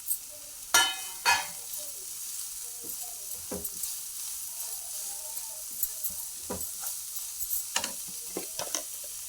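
Chopped tomatoes and grated coriander cook in a hot pan with a steady low sizzle, broken by scattered clicks and scrapes of stirring.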